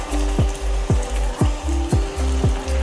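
Sabudana puris deep-frying in hot oil give a steady, close sizzle broken by regular pulsing bursts about every half second, with no voices.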